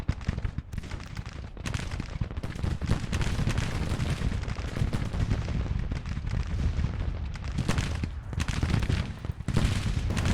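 An 18th Maryland artillery battery fires in the GTCW Civil War game, dense overlapping booms and cracks rolling in continuous, loud bursts with brief lulls between volleys.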